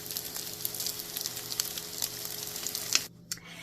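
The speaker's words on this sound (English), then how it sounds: "So while these are frying, you want to fry them maybe about 2 to 4 minutes per side." Chicken fritters sizzle and crackle steadily in hot oil in a pan, a close, continuous frying hiss with small pops, briefly dropping away near the end.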